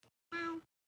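A cat gives a single short, close meow, preceded by a tiny faint chirp, with silence around it.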